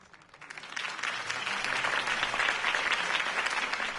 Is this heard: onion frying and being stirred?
no